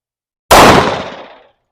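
A single loud, close pistol shot from a Springfield XDM Elite chambered in 10mm, fired at an outdoor range: a sharp bang followed by about a second of decaying echo, with no talk.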